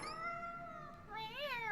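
A cat meows in Tales of Berseria, a rising-and-falling call with a second bending meow near the end, clear and close over faint game background.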